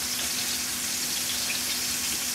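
Food sizzles in a frying pan as it browns on one side, a steady, even hiss with a faint hum beneath and no talking.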